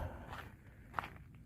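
Footsteps crunch softly along a mountain hiking trail in the Sandia Mountains, a few faint, irregular steps with one sharper scuff near the end, quiet and close amid open outdoor air.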